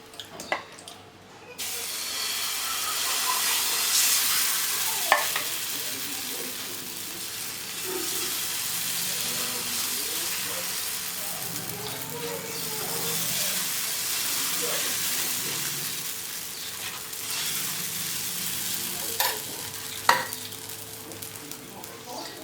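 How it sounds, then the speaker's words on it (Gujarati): Moong dal batter frying in a little oil in a nonstick pan over a slow-to-medium flame: a steady, fairly loud sizzle that runs nearly throughout, with a few brief clatters and scrapes. "કઢાઈની અંદર જે બેટર હતું એ ફેલાવી દીધું છે। એકદમ ઓછા તેલમાં આ સરસ મજાનો નાસ્તો બનીને રેડી થઈ જાય છે।"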